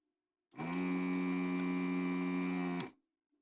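One long, steady moo from a cow, roughly two and a half seconds, loud and close in otherwise silent surroundings, cutting off sharply like a sound clip.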